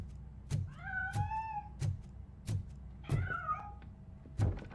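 A cat meows twice in the Robocop Rogue City video game, with drawn-out, rising-and-falling cries set against a run of dull, regular thumps.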